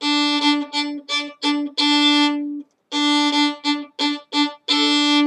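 Staccato bowed notes on the open D string, short detached strokes in a rhythmic pattern with a brief pause midway, close and clear.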